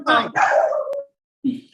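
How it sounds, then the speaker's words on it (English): A dog barks close by: a couple of loud, high yappy barks with a whine-like tail, a short silence, then one more bark. "One of my dogs."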